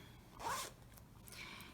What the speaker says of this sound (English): and zip it.